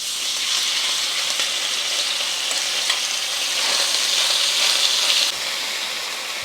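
Beef sizzles steadily in hot vegetable oil in a wok, a loud continuous frying hiss with small crackles and occasional stirring that holds unbroken for several seconds, with no talk.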